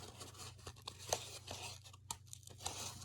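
Cut paper slots being folded down one after another, with soft crinkling and brief tearing-like rustles close by over a steady low hum.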